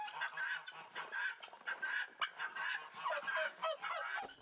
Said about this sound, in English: I have 4 guinea hens, and I can't tell them apart